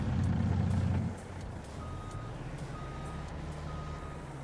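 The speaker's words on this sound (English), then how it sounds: "Oh, back up the truck." Truck reversing beeps in Farming Simulator 22: a steady series of high electronic beeps repeating over a low engine rumble, with a louder burst of engine noise at the start.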